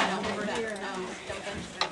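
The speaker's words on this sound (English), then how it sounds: "I'd have to stir it up first" Stirring a mixture in a pot in a kitchen, with a spoon scraping and swishing in short irregular strokes, faint and close, while people talk over it.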